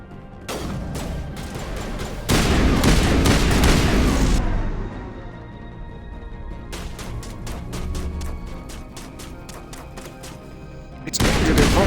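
Gunfire and explosive booms from combat in the video game Mass Effect, with loud bursts of shots and heavy impacts, then a quieter stretch of scattered sharp reports before another loud burst at the end.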